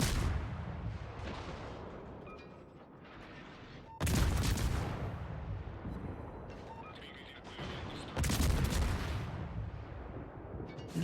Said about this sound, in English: there is already a lot of secondary fire coming this way